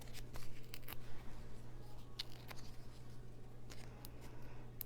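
Scissors snip through foam dimensional adhesive squares, cutting them in half at a card-making desk; several short, crisp cuts close by over a steady low hum.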